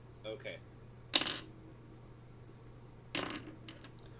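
Dice clatter onto a table during a Dungeons & Dragons session, two short bursts of rolling clicks about two seconds apart, close and crisp, with faint voices between.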